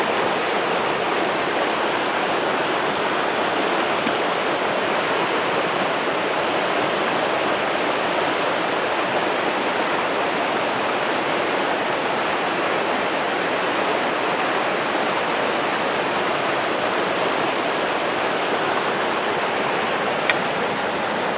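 A stream flows continuously, a loud, steady rush of water with no breaks.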